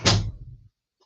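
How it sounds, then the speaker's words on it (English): A door shuts with a single firm thunk up close, its brief rumble dying away within about half a second, followed by quiet. "Close my door all the way."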